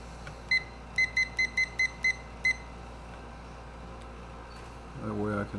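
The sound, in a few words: egg timer beeping while being set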